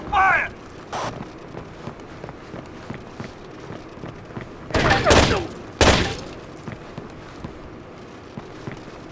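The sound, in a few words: gunfire in Rainbow Six 3 video game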